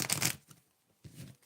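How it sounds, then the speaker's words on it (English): Tarot cards being shuffled by hand in two short riffling bursts separated by a brief pause, close and crisp, with no talking over them. "Please tell me when to stop shuffling"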